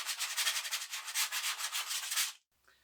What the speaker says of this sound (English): takes their leftover grip tape, like so, sands around the edge real good